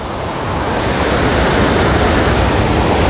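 Torrential floodwater roars over Wawa Dam in the aftermath of Typhoon Ulysses, a loud, continuous broadband rush that swells slightly and never lets up, heard close with no voices.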